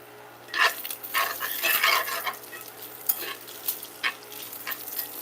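Bacon frying in a pan for breakfast burritos, a steady sizzle with bursts of stirring and utensil scraping, fairly close and with no talk.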